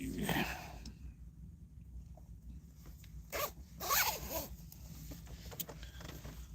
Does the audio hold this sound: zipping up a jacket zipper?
yes